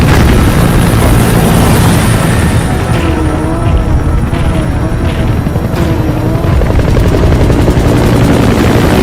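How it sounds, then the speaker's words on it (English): A support helicopter in Metal Gear Solid V roars loud and close throughout, its rotor thudding steadily under a dense engine whine, with a couple of faint thumps mixed in. "Support helicopter requested."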